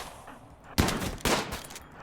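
Bolt-action rifle gunfire in the RimWorld video game as colonists fight off raiders, two loud separate booming shots about half a second apart, each followed by a short decaying rumble, with no voices.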